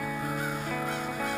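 Crows caw loudly and harshly nearby in short repeated calls while chasing a great horned owl in the daytime.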